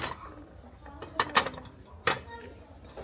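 Small dishes clinking as they are picked up and handled in a shop, a few sharp ceramic clinks in brief clusters over low background chatter.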